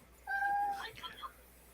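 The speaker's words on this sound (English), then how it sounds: "Boy, Emily's cat's upset." An upset cat lets out a single drawn-out, tonal meow that falls off into a wavering tail, fairly close and clear over a quiet background, with a person talking nearby.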